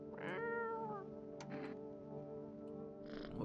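Garfield the cat meows in a video game, with a clear drawn-out meow near the start followed by short softer mews and a final brief cry.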